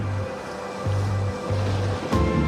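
Mediterranean sea waves along a wind-exposed Spanish coast: a continuous rushing wash of surf with gentle swells, heard alone under steady breezy noise.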